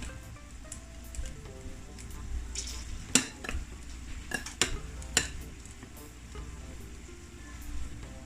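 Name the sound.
coating chicken wings in flour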